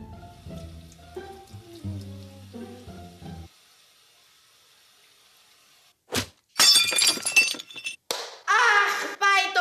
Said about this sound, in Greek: Αχ, πάει το ποτήρι.